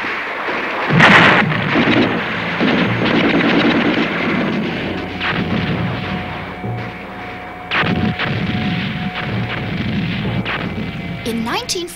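World War I gunfire and shooting: dense bursts of rifle and artillery fire with heavy booms and cracks over a constant rumbling din, loud and sustained. Voices speak over the battle noise.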